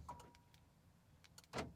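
Viper aftermarket remote key fob on a pickup truck actuating the door locks: a few brief, faint mechanical clicks and thunks, with one louder lock actuation near the end, in a quiet setting.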